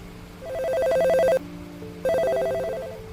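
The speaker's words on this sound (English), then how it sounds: "Graves answered the phone on the first ring." A telephone in a radio drama rings twice, each a loud, trilling electronic bell burst lasting about a second, separated by a short pause, with no talk.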